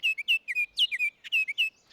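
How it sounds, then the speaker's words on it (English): Baltimore Oriole singing a run of clear, whistled chirps, about a dozen short bright notes in quick uneven bursts, close and alone with no other sounds. "I want to highlight one of our most notable and recognizable migratory birds, and that would be the Baltimore Oriole"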